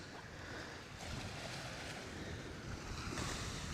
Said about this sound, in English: I love the ocean too.